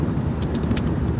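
A car drives along a road in warm Arizona weather early in the morning, producing a steady, close interior rumble of engine and tyres that stays unbroken from start to end with no talk.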